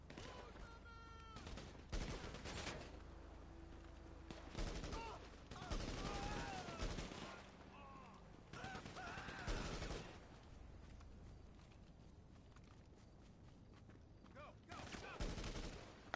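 Rapid bursts of gunfire in GTA V, fired at the player, come in several loud clusters separated by quieter gaps, with a voice speaking between and over the shots.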